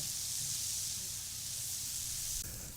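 Mushrooms sautéing with onion and garlic in a pan, giving a steady, close, continuous sizzle and hiss that holds evenly throughout with no talking.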